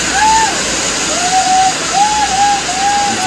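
A river in Dominica rushes loudly and steadily, a dense close roar of flowing water, with a few high whistling bird calls over it.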